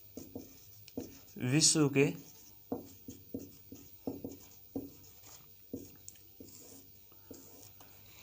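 Chalk or marker strokes on a board come as a loud scratchy burst followed by a run of short, evenly spaced taps and strokes, close and clear, while someone speaks Hindi at intervals.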